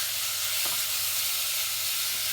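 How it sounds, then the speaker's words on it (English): Chicken sizzling steadily in a pan as it cooks for a rice casserole, a continuous bright hiss with a brief scrape of a wooden spoon stirring partway through, no voices. "just let it get that chicken to cook"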